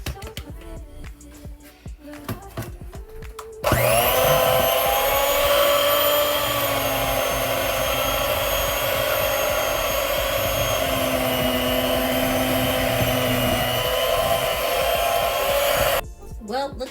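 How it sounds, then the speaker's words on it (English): An electric hand mixer beating thick chocolate chip s'mores cookie dough with flour, a loud, steady motor whine that starts abruptly and runs about twelve seconds before cutting off, with faint clatter before and after. "My mixer is not mixing for me anymore"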